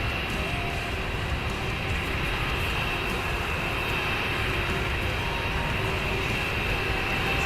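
Steady broadband roar of an Aer Lingus A320 airliner in Microsoft Flight Simulator 2020, a constant, even engine drone with a faint high whine, loud and unbroken throughout, with no talking.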